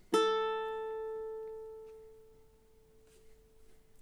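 A single plucked open A string on a ukulele rings out clearly, its bright tone sustaining and slowly decaying for several seconds, with no voices.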